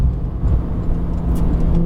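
A Porsche 911 Turbo engine drones steadily at close range as the car drives on a track, a continuous low rumble with no voices over it.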